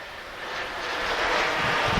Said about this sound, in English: So now the planes are flying a little faster.